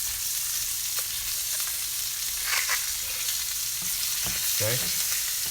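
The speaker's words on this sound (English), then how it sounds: "With a spoon, you're going to baste." Steak basting in butter in a hot pan, a continuous close sizzle and frying hiss with a few spoon clinks and scrapes; a voice speaks briefly.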